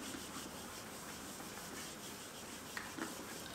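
Writing being rubbed off a board with a duster during a class, a steady soft scrubbing hiss that continues evenly throughout, close by, with a couple of faint taps near the end.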